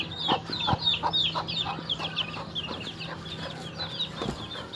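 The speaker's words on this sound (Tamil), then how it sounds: "இது நம்ம சிறுவடை சேவல். இது கோழி." A bantam hen and rooster cluck in a quick, close series of sharp, bright calls, with a low steady hum underneath and no talking.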